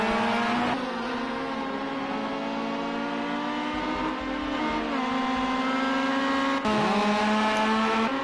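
Race cars scream around the Cadwell circuit, engines holding a loud, sustained high-pitched drone with shifting pitch as they rev and change gear, close and continuous throughout.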